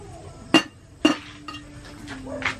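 A kawali (wok-style cooking pan) is set down on a wood fire in a rural Filipino farm setting, giving two sharp metallic clanks about half a second apart, followed by faint clinks and a low steady hum.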